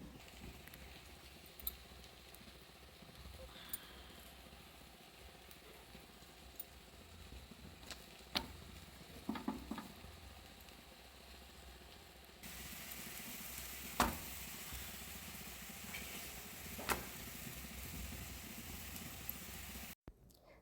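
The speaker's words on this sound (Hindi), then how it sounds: "तो गाय के लिए रोटी बन चुकी है और अब मैं डालने वाली हूँ तवे पे" Roti cooking on a hot tawa griddle at a village ashram kitchen in Bhimtal, Uttarakhand, giving a steady faint sizzle with occasional soft pats and clicks, growing slightly louder partway through, with no talking.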